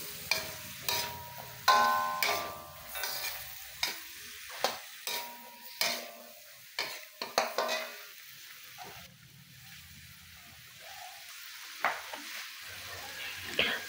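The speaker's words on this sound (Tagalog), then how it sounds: "Haluin natin ito." Chop suey with young corn is stirred in a pan, a spoon scraping and clacking in repeated strokes about every second over a soft sizzle, fairly close.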